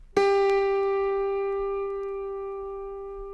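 A single F string plucked on an autoharp rings out cleanly and sustains, slowly fading over a few seconds with no other sound.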